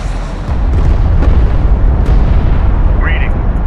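A hostile turret explodes in the real-time strategy game Homeworld: Deserts of Kharak, a deep booming blast that rolls into a sustained rumble with a few sharp cracks layered on top, loud and continuous for several seconds.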